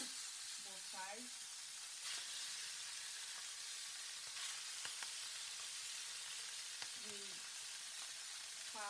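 Fish partly frying in oil for jollof rice, a soft steady sizzle with occasional faint clicks, while a voice briefly speaks near the start and again later.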